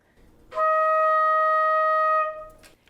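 A single sustained flute note, E flat, clear and steady, held for about two seconds before stopping, played close and alone.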